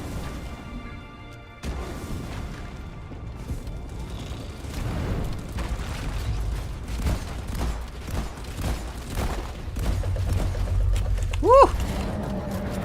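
Rocket strikes from a support call-in burst in a video game firefight, several heavy booms and crashes piling up over a steady rumble of gunfire, with a brief rising whistle near the end.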